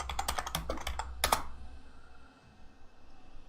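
Quick bursts of keystrokes on a computer keyboard as a chat message is typed during a beginner Python programming livestream, a rapid run of clicks followed by a short second burst, then quiet room noise.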